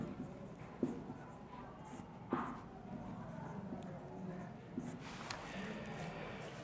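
Marker or chalk moves across a board during a profit-and-loss maths lesson, giving soft scratching strokes with a few sharper taps. It stays quiet, with faint room noise and some murmuring.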